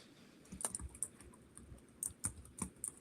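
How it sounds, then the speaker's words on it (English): Typing on a computer keyboard, faint scattered key clicks in short irregular bursts, quiet and close with no talk. "I'm just typing this in."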